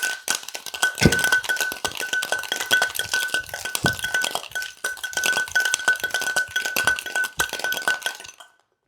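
Metal cocktail shaker tins packed with ice shaken hard for a Death in the Afternoon cocktail, a fast steady rattle of ice cracking and clinking against the tins for about eight seconds before stopping abruptly.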